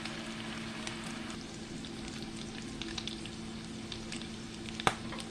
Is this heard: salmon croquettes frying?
yes